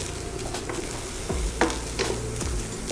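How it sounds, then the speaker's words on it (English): Onions dropped into a hot pan with a little water left sizzle and crackle steadily, with a few scraping stirs and pops close by, and no one talking. "you can now add your onions"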